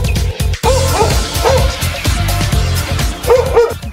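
A Himalayan sheepdog, a Bhotia dog, barks loudly and close in a rapid run of yips and woofs with brief whimpering tones, under faint background voices.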